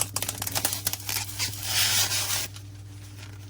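Protective plastic film being peeled off a WD easystore external hard drive makes a close, crackly, crinkling rip that lasts about two seconds, then gives way to quiet room tone.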